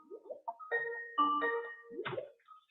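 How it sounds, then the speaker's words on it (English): A software notification chime keeps sounding during an online talk, a series of clear electronic tones with a few sliding pitches, fairly close and alone. "I can't get my one ping to turn off"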